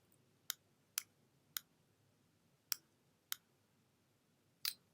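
Six sharp, quiet mouse clicks at uneven intervals while working in CSS editing software, each a crisp isolated tick against near silence.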